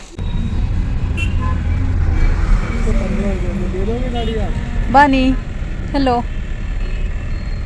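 Delhi road traffic from inside a car: constant low engine and road rumble with passing vehicles and horn honks, while people talk over it.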